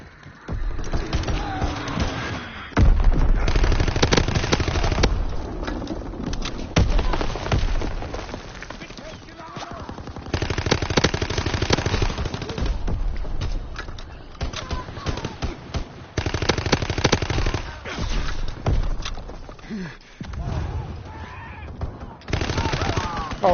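Bursts of machine gun fire in the World War II shooter Call of Duty WW2 rattle through a busy mix of game sounds, recurring in loud stretches across the scene while someone talks over them.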